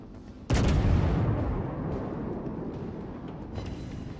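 A warship's main guns fire a salvo in World of Warships: a sudden heavy booming blast that rolls on into a long, loud, rumbling decay, with a few faint cracks near the end.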